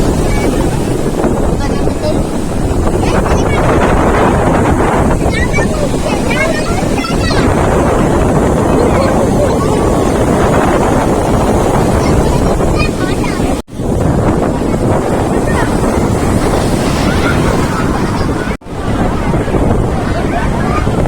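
Sea waves washing over rocks at high tide by the ocean, a steady loud roar of surf under gusting wind buffeting the microphone.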